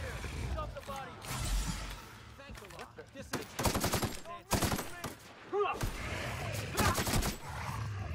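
Gunfire from a powerful gun in the sci-fi video game The Outer Worlds: several sharp, loud bursts of shots fired in quick clusters, mixed with a person's exclamations and other in-game sounds.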